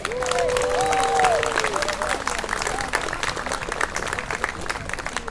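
Crowd in an outdoor park applauding a family band, sustained rippling clapping that swells early and then thins slightly, with a few voices and whistle-like calls heard through it, fairly close and full.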